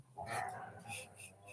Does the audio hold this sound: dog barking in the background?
yes